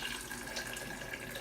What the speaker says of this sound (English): I probably should add just a little bit of water to it.